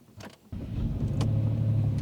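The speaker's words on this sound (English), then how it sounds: "So I started the engine by turning the key" A car engine started with the key: a brief cranking whir, then the engine catches and settles into a steady, close idle rumble, with no talk.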